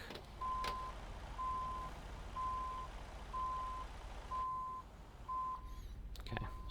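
A truck's reversing alarm beeps steadily in American Truck Simulator, six evenly spaced electronic tones over a low engine drone, fairly quiet, with a brief click near the end.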